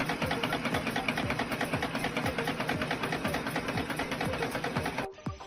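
Factory machine rapidly punching bristles into the holes of brush heads, a fast steady mechanical chatter of repeating clacks over a running motor drone, loud and close, cutting off abruptly near the end, with no talking.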